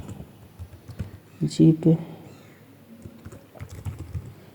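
Keys clatter on a computer keyboard as C code is typed, a light run of close clicks with a louder burst in the middle, under someone talking.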